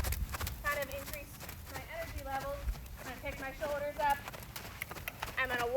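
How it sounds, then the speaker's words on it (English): A horse in a steady working trot, hooves striking the ground in a quick regular beat, heard under a woman's speech throughout. "So here's her normal, working trot."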